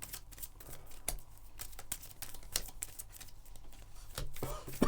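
Playing cards shuffled in a run of quick, soft riffling clicks during a multiplayer Marvel Champions card game, fairly quiet with little talk.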